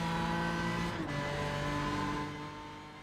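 A BMW M4 GT3 race car engine in the iRacing video game drones steadily at high revs with a brief dip as it shifts or lifts, then carries on with sustained tonal harmonics that fade slightly toward the end.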